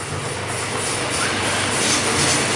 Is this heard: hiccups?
no